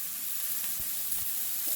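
Vegetables hit a smoking-hot cast iron pot and set off a steady, close sizzle and hiss that holds evenly with no pauses.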